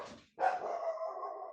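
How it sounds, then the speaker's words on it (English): A dog barks outside a door: a short muffled woof followed after a brief gap by a longer, drawn-out bark that trails off into a whine, fairly near. "my dog just scared the bejesus out of me. He must have been laying outside my door."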